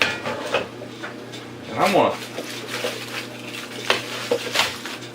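Cookie sheet and skillet clatter as they are handled in a home kitchen while ribs cook, metal pans clanking in a few brief knocks and scrapes, one louder ring near the middle, with a voice speaking briefly.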